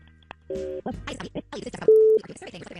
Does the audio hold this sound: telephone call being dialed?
yes